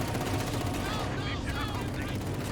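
Rapid SVT rifle fire from a Conscript squad in the World War II strategy game Company of Heroes 2, dense crackling shots over a constant battle din, with another voice talking through it.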